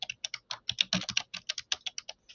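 Rapid typing on a computer keyboard, a run of crisp, close keystrokes in a quick uneven rhythm with brief gaps, heard alone in a quiet room.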